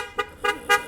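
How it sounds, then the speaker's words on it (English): Three short car horn toots go off in quick succession, sounding fairly faint and distant. "I don't know why they were honking"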